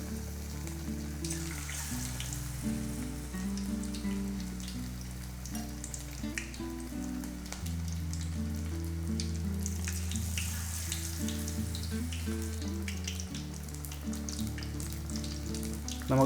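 Batter-dipped fish bajji, Pondicherry style, fries in hot oil with a continuous crackling sizzle, heard alone beneath steady instrumental background music.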